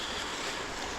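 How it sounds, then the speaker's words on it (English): Water lapping at the shore beside a reishi mushroom spot in nature, heard as a steady, broadband wash that fills the full second with no distinct waves standing out. "But I'll walk down and sit near the water so we can hear that."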